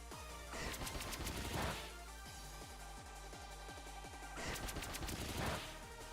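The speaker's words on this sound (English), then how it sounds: "your pin missile is doing so much damage" Pin Missile attack in the Pokémon Violet video game, two bursts of rapid rattling, machine-gun-like hits over a steady background hum, with no voices.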